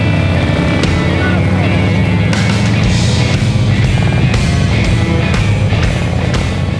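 A motorcycle ride at the Sturgis Motorcycle Rally in the Black Hills gives steady, loud engine roar and rushing wind from on the bike, continuous throughout with small surges.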